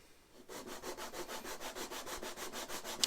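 A piece of wood sanded by hand against a flat surface, a rapid run of even back-and-forth rasping strokes, close and fairly loud after a brief quiet start.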